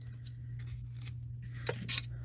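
Scissors snipping through sequin sheets for Valentine cards, giving several quiet, quick cuts over a steady low hum.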